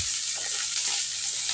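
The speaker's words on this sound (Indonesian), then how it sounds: "Kita lanjut goreng salmon." Salmon seasoned only with salt fries in a pan without oil, giving a steady, bright, continuous sizzle with slight crackling variations, close and alone.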